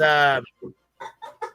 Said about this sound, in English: That's not a chicken. That was my chair. I forgot to oil it yet.